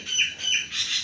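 Small bird chirping and squawking near a household junk pile, three rising high-pitched calls in quick succession, clear and fairly close with no talk.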